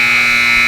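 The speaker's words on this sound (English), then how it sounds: "That's the opening buzzer." Loud, sustained electronic buzzer at a high school girls' basketball game, a steady tone held for the whole moment in the gym.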